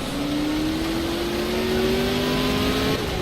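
Deep, roaring car engine revving in a racing video game, a steady loud drone with a slowly rising pitch that holds for about three seconds before easing off.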